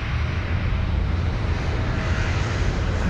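Aircraft engines on a runway, a loud steady roaring drone with a broad rumble that holds constant throughout, close and without breaks.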